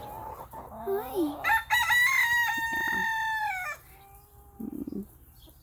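A flock of Java hens at a homestead, close by, with a loud drawn-out crow-like call over scattered clucks, then a softer cluck burst near the end; someone briefly speaks to them.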